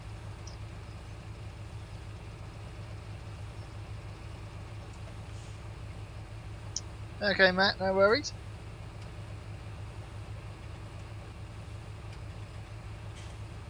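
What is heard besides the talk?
John Deere tractor engine in video game Farming Simulator 17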